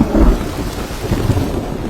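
Thunder rumbles in an animated children's story, a short heavy low boom rolling over a steady hiss of rain, with no voices.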